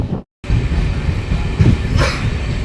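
An Indian passenger train, a Katni to Chirmiri MEMU, runs on rails with a loud, steady rolling rumble and rattle, broken by one short gap near the start and a brief higher screech later.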